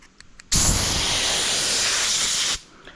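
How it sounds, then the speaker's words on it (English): A loud, steady two-second blast of compressed air hisses through the rail groove of a chainsaw bar, starting and stopping abruptly, with faint clicks before and after. "Next step is I just blow the rail out"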